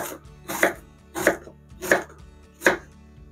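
A knife chops onions finely into small dice on a board, four evenly spaced, crisp chopping strokes close up, with no voices.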